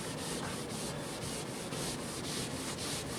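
Pumice rubbing compound is worked across a surface in a continuous, faint, gritty scrubbing with a gently pulsing rhythm, with no voices.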